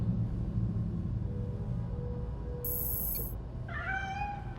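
A cat meows in the video game Gotham Knights. Low rumbling ambience and a brief high electronic chirp come first, then one clear, rising meow near the end.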